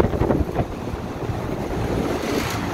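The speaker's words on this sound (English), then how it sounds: "We do have all our condenser fan motors are running." Condenser fan motors run on a rooftop York package unit, giving a steady, even whooshing rush of moving air that holds at a constant level with no pauses and no voices.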